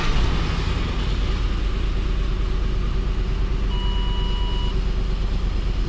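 Ford 4.6 3-valve V8 engine running with a slight rattle: a steady, loud, close engine drone with an even low rumble throughout, and a brief faint tone partway through, with no talk.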